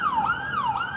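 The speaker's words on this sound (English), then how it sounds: "I swear Israel has the loudest ambulances on planet Earth" A very loud ambulance siren in Israel wails up and down in a smooth rising and falling sweep, close and dominant with no talk over it.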